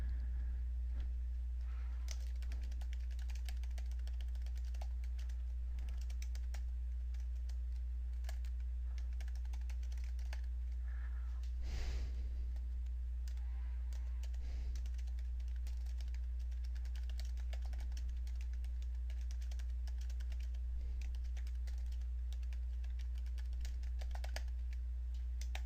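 Steady clicking of a computer keyboard as sample text is typed, quiet keystrokes tapping in irregular bursts over a constant low electrical hum, with no talking.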